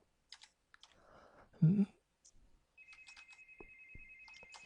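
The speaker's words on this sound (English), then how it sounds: "Someone's trying to get me on my cell phone." A cell phone rings quietly at a desk during computer work, its thin steady electronic tone entering partway through amid soft keyboard typing and clicks.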